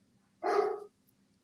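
A single short dog bark, moderately close, stands alone against a faint low hum.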